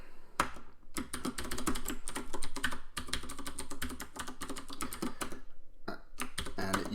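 A password tapped out on a computer keyboard while setting up a ZFS drive mount point, a steady fast run of close, crisp keystrokes with a couple of short pauses and no talking.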